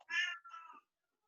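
A cat meows twice in quick succession during an online class held over Zoom, the first call longer and louder and the second shorter, with silence after.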